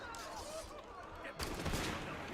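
Gunfire in Assassin's Creed Unity: a dense, noisy barrage of shots in a chaotic fight, swelling into a louder burst partway through, with voices mixed under it.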